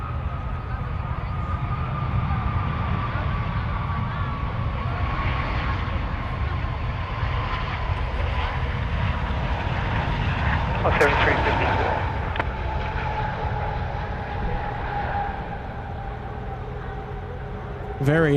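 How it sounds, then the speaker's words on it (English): An Emirates airliner rolls out at Sydney Airport under gentle reverse thrust, a steady distant engine roar with a slowly falling whine. A voice talks over it. "Very gentle on the reverse thrust there."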